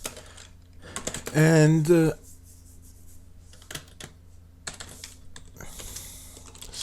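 Scattered keystrokes on a computer keyboard while fixing a folder path, sparse and uneven taps after a brief spoken word, with low hum underneath.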